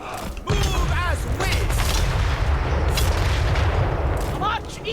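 Cannon and artillery blasts in a Warhammer Grand Cathay battle, loud booms rolling over a dense battlefield din with brief voices shouting in the mix.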